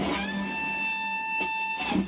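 A single electric guitar note is bent up at the 15th fret of the E string, a clear sustained tone with faint pick or fret noises near the end.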